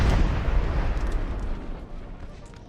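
Prussian artillery on a hill fires in a 3v3 battle in the video game Napoleonic Total War 3, a deep booming roll of distant cannon fire that rumbles and slowly fades.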